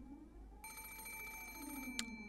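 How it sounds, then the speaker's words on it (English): A telephone rings inside the horror visual novel Umineko When They Cry, a sudden electronic trill that cuts in and keeps ringing steadily over a low ambient drone, with a brief sharp click near the end. "The sudden ring of the phone made me jump so hard"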